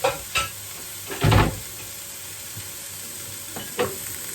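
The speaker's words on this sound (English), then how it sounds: "I'm just going to let this all cook down now" Vegetables sizzling as they cook down in a pan while purple cauliflower is being prepared, a steady frying hiss broken by a few louder stirring scrapes and clatters.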